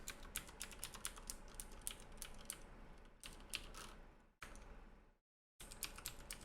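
Rapid clacking keystrokes on a computer keyboard while text is entered in a notepad, a close, steady burst of taps broken by a couple of short pauses.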